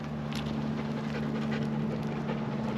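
A dog pants rapidly and steadily during heel training on a loose leash, close and fairly quiet, with a low steady hum in the background.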